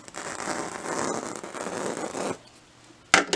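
Faux fur backing being sliced with steady, dense scissor-like cutting for about two seconds, then a pause and one sharp snip at the end, close and fairly loud with no talking.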